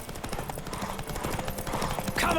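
A horse's hooves clip-clop at a steady trot in The Witcher 3 video game, a rapid even rhythm under game ambience and some faint background noise.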